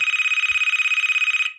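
Electronic telephone ring in the video game Conrad Stevenson's Paranormal P.I., a loud, rapidly trilling single ring lasting just over a second before cutting off.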